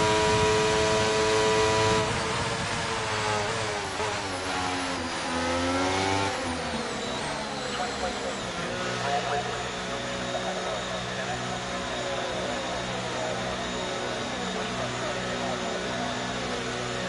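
Formula 1 race car engine from the F1 23 racing game at the Baku circuit, a sustained high-pitched whine that climbs and shifts through gears as the car pulls away, loud and continuous, with occasional voices over it.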